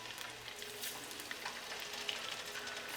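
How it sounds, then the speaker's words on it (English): Chicken karaage pieces sizzle in hot oil during the first fry, a faint, steady crackling hiss with tiny pops throughout. "for the first fry, you're just going to fry until it's like light gold on the"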